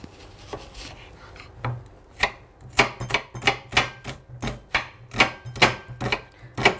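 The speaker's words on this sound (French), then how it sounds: "il faut émincer les oignons" A knife finely slicing onions on a cutting board, starting with a few scattered cuts and settling into a steady run of sharp, close chops at an even rhythm.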